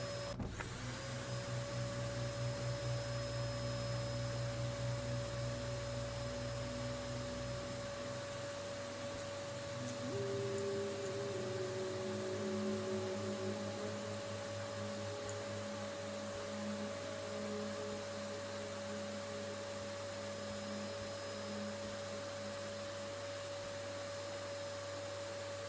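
A vacuum cleaner in the video game Creepy Shift: Uncle Joe's Motel drones with a steady, whining motor hum, a lower rumble underneath fading out partway through while the whine keeps going alone.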